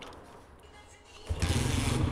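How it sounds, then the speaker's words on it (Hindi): A Honda CG 125 motorcycle engine in a workshop starts up after quiet, broadband noise, then settles into a loud, steady close-up running rumble. "तो अभी हम मोटरसाइकिल को स्टार्ट करते हैं और देखते हैं कि इसकी क्या कंडीशन बनी है"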